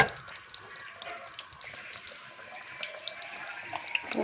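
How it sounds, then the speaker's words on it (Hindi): Food frying in hot oil for a home iftar meal, a soft, steady sizzle with faint scattered pops and bubbling, quiet and without talk. "ये देखें आहिस्ता आहिस्ता से ना अब बबल आना शुरू हो गए हैं। ऑयल भी गर्म हो रहा है"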